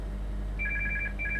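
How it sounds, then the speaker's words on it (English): Telephone ringing in two short electronic trill bursts, faint and steady against a low room hum. "that'll be the phone"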